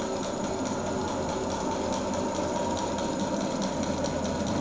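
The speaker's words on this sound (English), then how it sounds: "Centrifuge is going to spin." An apheresis machine's centrifuge spins up while its channel is primed, producing a steady, loud mechanical drone with a dense whirring hum that stays constant throughout.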